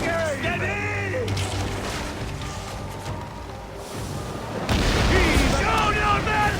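Cannons on a galley fire in Assassin's Creed Origins, heavy booms thudding over a dense battle din, with a louder, fuller blast surging in near the end while voices shout over the action.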